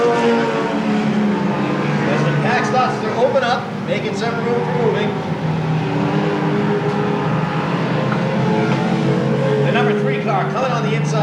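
Stock race cars circle Seekonk Speedway in 1993 weekly racing, their engines droning and rising as the pack passes, while a commentator talks throughout.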